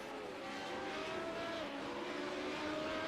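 A race car in a six-hour endurance race drones past on track at moderate distance, its engine note rising and shifting as it goes by, fairly faint and steady.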